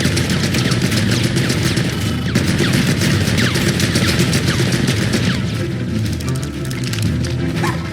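Gunfire in the video game Pikmin 4, a loud, dense stream of rapid shots and crackling bursts that keeps going without letup over a busy game soundscape.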